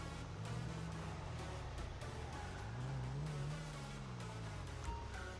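Car engine revving in GTA 5 on FiveM, a continuous droning motor with rising and falling pitch as the vehicle accelerates, steady and moderately loud without talk.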